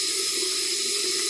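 Water runs steadily from a tap into a sink, an even, close rushing stream with no pauses.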